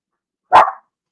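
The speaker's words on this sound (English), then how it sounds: "I think it's somebody walking a dog" A single sharp dog bark, close and loud, stands out against silence as the dog is walked past the house.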